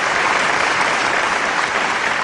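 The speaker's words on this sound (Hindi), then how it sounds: "आप तालियां बजाइए आदरणीय नीरज जी के लिए।" Audience applause for a poet at a stage show, a brief burst of dense, steady clapping from a large crowd.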